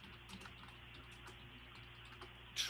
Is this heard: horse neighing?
no